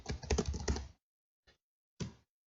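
Someone types a formula into Microsoft Excel on a computer keyboard: a quick burst of close, crisp keystrokes, then a lone tap and a short final flurry separated by silence.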